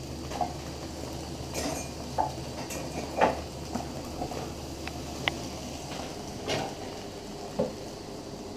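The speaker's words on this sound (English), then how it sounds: "Now I'm going to throw in the rice noodles." Rice noodles tossed into a pan on a camp stove, with cooked eggs already in it, give a low continuous sizzle and hiss, dotted with occasional metallic clinks and scrapes of stirring up close.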